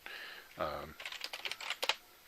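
Keys on a computer keyboard clatter in a short, quick burst of close, crisp taps, following a brief moment of speech.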